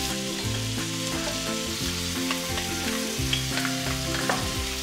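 Lamb pieces brown in a hot pan, a loud, dense, continuous sizzle and crackle of frying meat close up, steady throughout with no talking.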